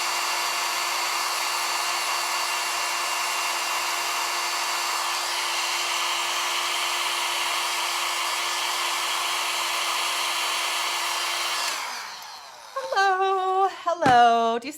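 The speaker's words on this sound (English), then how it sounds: "before I use this, I'm gonna blow dry them" A hair dryer set on cool blows steadily and loudly to dry eyelashes, a constant whirring hum that cuts off near the end before brief clattering handling sounds.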